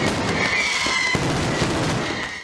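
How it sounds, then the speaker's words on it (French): A firework bursts at a WWE wrestling event, a loud continuous crackling blast with a hissing whistle sustained over about two seconds before trailing off. "un feu d'artifice va exploser"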